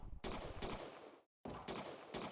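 Gunfire from the space colony game Space Haven: rapid bursts of shots in a dense, continuous stream, broken by one brief silent gap before the firing resumes, with no talk over it.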